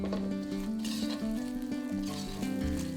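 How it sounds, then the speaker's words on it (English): Half a sliced onion fries in oil in a wok, a soft steady sizzle running under a quiet background of faint tones, with no one speaking. "Add in half a sliced onion and fry that for a couple of minutes."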